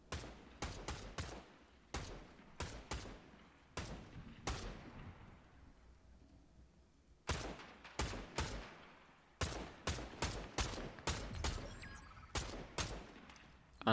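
Rapid bursts of gunfire from a weapon in Fortnite Chapter 7, loud, sharp volleys in irregular clusters with brief gaps between them, and no talking over them.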